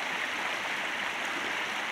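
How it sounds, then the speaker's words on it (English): A stream of runoff from a river rushes steadily with a dense, even hiss of flowing water, close and constant, with no voices. "it's a runoff from the river"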